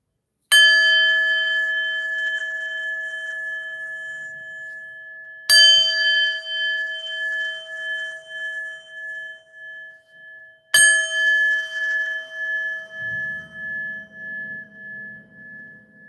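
A chime bell rung three times during a tarot live stream, each bright metallic strike ringing out and slowly fading with a wavering shimmer, loud and close with no talk.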